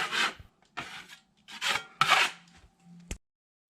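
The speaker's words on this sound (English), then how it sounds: "These heavy lines, we're just going to kind of scrape them" A wide blade scrapes heavy ridges of quickset joint compound off a cement plaster wall: four rough, rasping strokes of about half a second each, close and fairly loud, separated by short pauses and ending with a brief tap.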